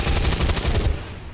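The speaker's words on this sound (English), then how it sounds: "I want you to go ahead and fire your weapon at fat boy" A quick burst of automatic weapon fire in the turn-based strategy game XCOM 2, rapid loud thumping shots for under a second before fading into a short tail.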